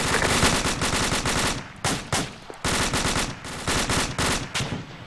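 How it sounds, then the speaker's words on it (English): Rapid bursts of machine gun fire on a military training exercise, loud, close rhythmic volleys with brief gaps between strings of shots. "2 Bravo machine gunner, shift your fire left to the blue smoke"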